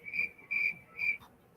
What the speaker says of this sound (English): Crickets.